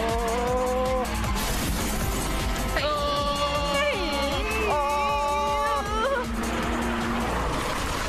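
A car reversing with tyres skidding gives several high wavering squeals over a rumbling engine, loud and close, with crash-like noises mixed in.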